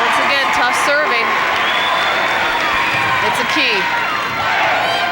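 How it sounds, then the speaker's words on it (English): A crowd of Atherton fans cheers and claps in a gym during a 1992 Class C high school volleyball final, a loud sustained wash of noise with a commentator talking over it. "the Atherton crowd's starting to get a little noisy now"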